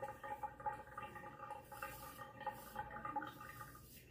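Slow-draining plumbing with a toothpick propping up one edge of the plunger knob, giving a steady low gurgling, trickling water sound that runs continuously at a faint level with small bubbling pulses.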